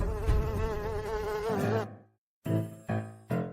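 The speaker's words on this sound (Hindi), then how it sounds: "गुरु, आप पर एक मक्खी है" Housefly buzzing with a wavering drone that stops abruptly after about two seconds, then short, close bursts of sound return in three quick pulses.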